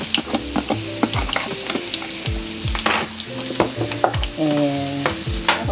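Celery frying in melted butter in a pan for a home Thanksgiving dinner: a bright, busy sizzle with frequent close clanks and scrapes of a utensil against the pan, loud and continuous.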